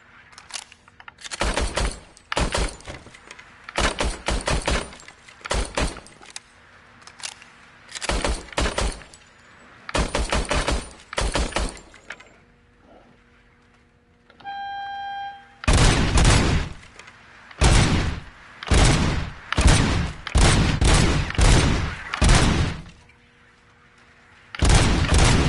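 Service weapon gunfire in a video game, firing in rapid bursts of sharp, loud shots separated by short pauses, with a brief electronic tone midway before more bursts resume.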